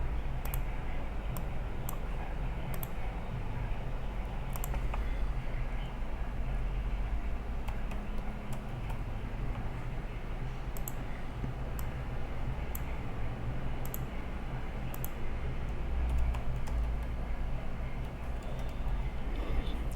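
Typing on a computer keyboard in a quiet room, scattered light key clicks in short irregular bursts over a low steady background hum.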